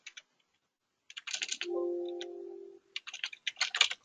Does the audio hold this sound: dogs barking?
no